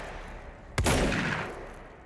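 A sharp gunshot burst from the video game Control, a sudden loud crack followed by a rolling, decaying tail of noise, with no talk over it.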